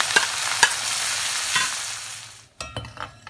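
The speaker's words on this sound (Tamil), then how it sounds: "இப்போ நம்ம கருவாடை பொரிச்சு எடுத்துடலாம்." Dried fish sizzles loudly while frying in sesame oil for karuvadu kulambu, with a few sharp clinks of stirring. The crackle fades toward the end, and no one speaks.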